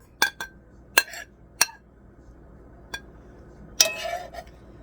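Dishes and cutlery clink sharply while fried potatoes are plated in a home kitchen, with a handful of separate bright ringing taps spaced unevenly, then a final louder clatter followed by a brief rattle.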